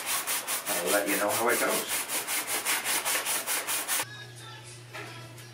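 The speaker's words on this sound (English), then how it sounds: "I've got a lot of it either scraped or sanded off" Rhythmic back-and-forth sanding and scraping strokes on the wooden neck of a Les Paul guitar, taking off the old finish, loud and steady for about four seconds before stopping, followed by someone speaking briefly through a mask.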